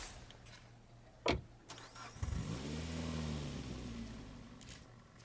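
A damaged car in the zombie survival game State of Decay 2 starts up with a sharp crank, then its engine settles into a rising, steady rumble that carries on to the end, with no talking.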